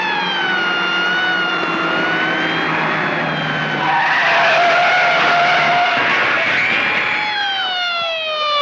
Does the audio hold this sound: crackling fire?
no